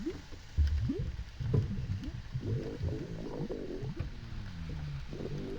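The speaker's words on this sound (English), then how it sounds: "Sounds like the lava has some problems with indigestion" Lava in the video game Harvester gives off deep, bubbling gurgles like a rumbling stomach, a string of low, wobbling groans and burbles rolling on one after another, loud and close, with no voices.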